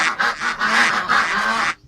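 A duck sound effect: a rapid run of about five loud nasal quacks blending into one another, close and clear, ending abruptly.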